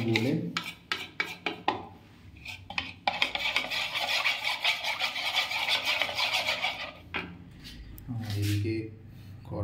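A spoon scrapes and stirs an arrowroot mixture in a bowl, making rhythmic rasping and clinking with a long stretch of continuous grating. A voice talks over part of it.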